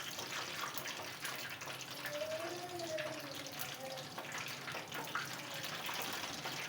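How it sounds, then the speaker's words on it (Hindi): Eggplant pakoras fry in hot oil with a steady, dense, hissing sizzle that holds at an even level throughout, fairly close. "ये सारे मैंने पकौड़े डाल दिए। अब इनको अच्छे से मैं फ्राई कर लूँगी।"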